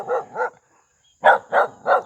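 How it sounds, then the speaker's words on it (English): A small farm dog barks close by, two quick yaps, a short pause, then three more in an even rhythm. "Here's this little pain in the ass dog who I'm trying to be friends with."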